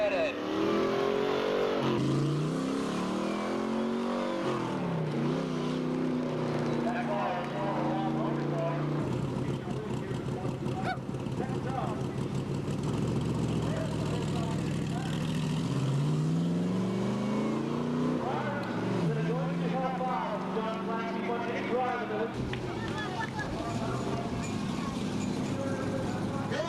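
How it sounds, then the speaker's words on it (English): Race car engines roar at Seekonk Speedway during a 1999 weekly Sportsman Division race, rising and falling in pitch as the cars sweep past, with an announcer talking over the continuous din. "That's racing engines"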